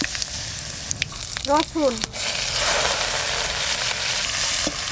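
Mustard oil with nigella seeds and dried red chillies sizzles and crackles steadily in a pan, a loud continuous frying hiss after a short spoken word.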